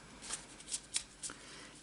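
A deck of tarot cards is shuffled close by in four or five quick, crisp riffling flicks spaced evenly apart, with no talk over them.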